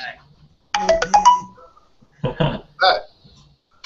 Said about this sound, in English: There was some little strange chime.